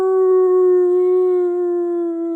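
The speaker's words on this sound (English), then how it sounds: "long howl" A creature tumbling off a snowy mountainside lets out one long, loud, sustained howl, steady in pitch and slowly fading, heard alone.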